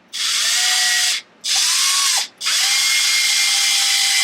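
A power drill drives screws into an Arrma Felony RC car during a diff oil change, whirring loudly in three close bursts separated by short pauses, its pitch shifting slightly as each screw seats.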